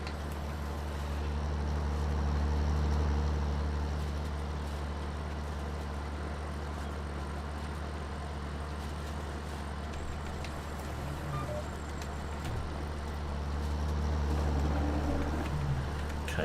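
John Deere tractor driving with a merger in Farming Simulator 19, a steady low engine drone swelling slightly at the start and end, with no talk.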